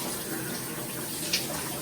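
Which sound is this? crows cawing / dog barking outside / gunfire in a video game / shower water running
shower water running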